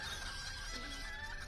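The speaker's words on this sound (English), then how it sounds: "Holy crap, it's a chicken coop." Chickens cluck inside a video-game chicken coop, a faint murmur of soft clucks over a dense, steady ambient wash.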